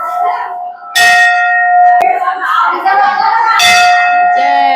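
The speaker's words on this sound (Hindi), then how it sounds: "ऊपर वो घंटा लगा हुआ है, उसको उछल के बजाना है।" A hanging temple bell is struck twice by someone leaping up to hit it, each ring loud and close, with long bright decaying tones and a short sharp knock between the strikes.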